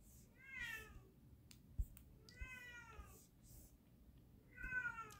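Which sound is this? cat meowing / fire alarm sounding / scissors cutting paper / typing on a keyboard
cat meowing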